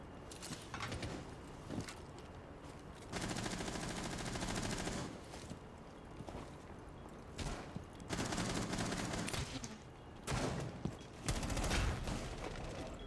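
Video game gunfire in repeated loud bursts and volleys separated by short quieter gaps, with scattered single shots and game background noise.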